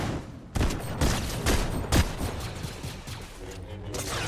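Shotgun fire in the Fortnite Battle Royale video game, with about four or five loud, close blasts spaced roughly half a second apart, followed by a busier wash of game noise and scattered smaller shots.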